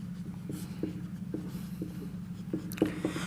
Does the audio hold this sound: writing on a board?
yes